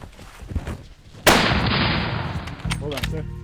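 A single loud rifle shot fired at an elephant on a hunt in Zimbabwe, a sharp crack followed by a long decaying echo, with quiet voices and movement before it and low talk afterward.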